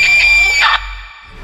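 A woman lets out a loud, high sustained scream at a dark graveside at night; it cuts off abruptly, leaving near silence.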